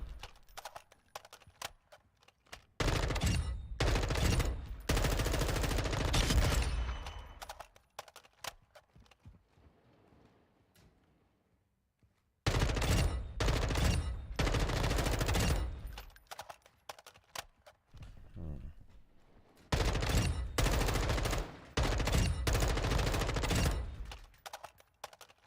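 Dual Kastovia DX90 (Kadachi) submachine guns fire in Warzone 2 in three long, loud, rapid bursts. Each burst is separated by quieter stretches of clicks and handling sounds. No talk is heard.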